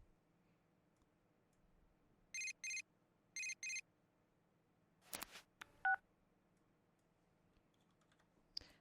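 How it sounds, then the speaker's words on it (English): A phone rings in the video game Persona 4 Golden as two short pairs of bright electronic trill bursts, followed by a few sharp clicks and beeps over a quiet background hum. "I'm guessing we're gonna get a phone call in the morning."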